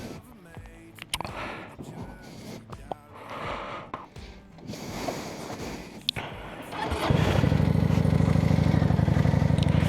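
A motorcycle on rural American village roads, engine note shifting with clatter and rattles under wind noise, then a steady, louder throbbing hum as it rides on.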